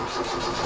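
Ford engine of a camper van turning over and catching in a short, steady mid-range burst, close and fairly loud with no voices.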